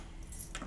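A bunch of keys jangles in short, faint metallic bursts toward the end, over a low background hum, with no speech.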